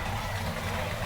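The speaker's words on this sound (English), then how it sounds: "that car has quite an engine" A parade car's engine idles in a steady low rumble, a continuous broadband drone with a strong bass hum and no distinct revving throughout.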